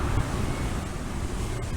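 Surf and gusting wind at Kuta Beach in Bali make a steady, rough roar close to the microphone, with buffeting wind noise and no voices.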